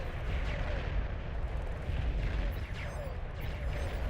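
Artillery fire in the strategy video game Beyond All Reason, a dense, continuous rumble of distant booming shots and impacts with no pauses.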